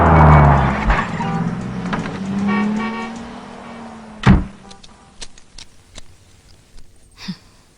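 A car pulling over and stopping: a loud engine hum that gradually dies away, then a sharp heavy thump followed by scattered lighter clicks and knocks as things settle.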